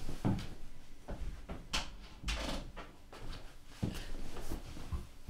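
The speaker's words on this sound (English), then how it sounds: "I just had to shut the door to get rid of some ambient noise" A nearby door is pushed and shut with a few solid knocks and thuds, mixed with some rustling and handling sounds in a room, no talking.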